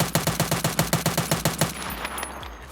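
An STM-9 gun fires a rapid, evenly paced burst of about a dozen sharp, close shots in Escape From Tarkov, followed by faint shell clinks and a short mechanical tail.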